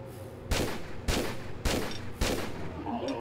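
Gunfire in the video game Tomb Raider III: four evenly spaced, sharp shots about half a second apart, loud and close, each with a short decaying tail.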